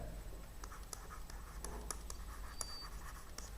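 A pen scratches across paper while someone writes out a cylinder's height during a maths lesson, a close, continuous scratching with short strokes and taps and no talk.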